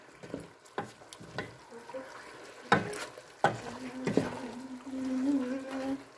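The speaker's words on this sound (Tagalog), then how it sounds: "It's boiling." Chicken adobo bubbles and simmers in a pot, with scattered clinks and stirring knocks over a soft, steady boil; faint voices in the background.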